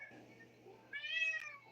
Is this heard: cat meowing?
yes